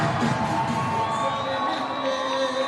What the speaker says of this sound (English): Grand Street, their crowd is going crazy